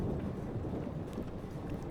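A thunderstorm in the video game Life is Strange Remastered: a steady, dense roar of rain and rumbling thunder that fills the whole moment with no break and no talk.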